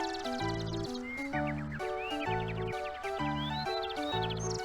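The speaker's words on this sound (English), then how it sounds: "you can hear a lot of tweeting" Chirpy electronic bird tweets in a retro video game, quick rising blips sounding over a bouncy, looping chiptune melody with steady repeated bass notes.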